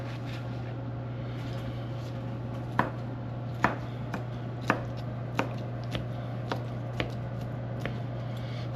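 Shrimp is chopped with a knife on a cutting board at an outdoor grill, sharp distinct thwacks landing about once a second over a steady low hum.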